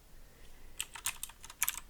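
Rapid keystrokes clatter on a computer keyboard in uneven bursts against a quiet background, close and moderately loud.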